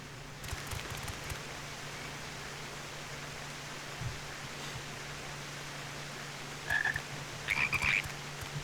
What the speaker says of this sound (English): All these frogs.